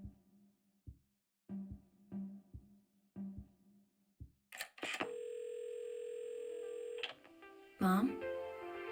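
A steady telephone dial tone sounds for about two seconds in the game Assemble with Care, preceded by soft handling knocks and a clatter as the receiver is lifted, then a brief sharp clunk at the end.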